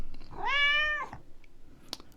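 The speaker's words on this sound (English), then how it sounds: "Our neighbour's cat." A neighbour's cat gives a single clear, drawn-out meow, close and distinct, followed by a quiet pause and a small clicking sound.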